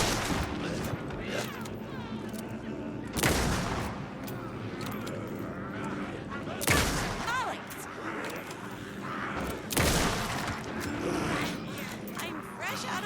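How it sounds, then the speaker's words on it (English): Bursts of fully automatic gunfire in the video game Alan Wake 2: Night Springs, three loud sustained volleys spaced a few seconds apart over a constant game soundscape, with people talking throughout. "Fully automatic fire, just hold the button."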